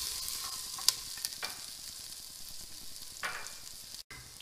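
Onions and chili flakes sizzle in a pan for a vegetarian pasta, a soft continuous frying hiss with a few light stirring scrapes and clicks, close and fairly quiet.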